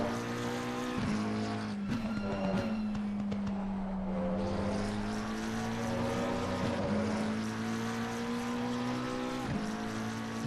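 Race car engine of a McLaren 720S GT3 Evo in Assetto Corsa Competizione at Misano, a loud steady tonal drone with pitch rising and dipping through shifts, with brief tyre-scrub bursts, continuous and close throughout.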